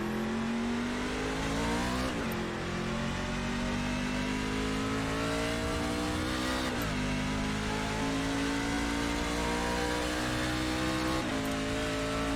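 NASCAR stock car engines in the iRacing sim at Hockenheim drone loudly and continuously, pitch climbing steadily through each gear and dropping sharply at three upshifts, with no talk over the engine note.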